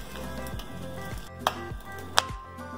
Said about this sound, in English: you can hear that sizzle sound of crusting the corn over the char grill